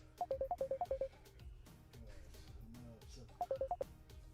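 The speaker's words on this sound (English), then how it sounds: "that is WhatsApp ringing there" A WhatsApp call ringtone plays two bursts of quick, bright, evenly spaced beeps, the first of about eight notes and the second shorter, with low murmuring voices underneath between the bursts.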